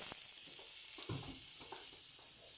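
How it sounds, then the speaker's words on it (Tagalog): Butter frying in a pan while sautéing a Filipino dish with pickles, red chili, garlic, onion and hotdog, giving a steady close sizzle with faint stirring scrapes and no talk. "Magigisa na tayo"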